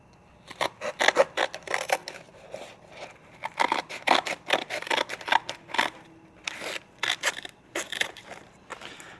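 Scissors or a blade slicing through a length of 2-inch hose during a VW Karmann Ghia repair, a close series of rapid, rasping cuts in quick bursts with brief pauses, no talking.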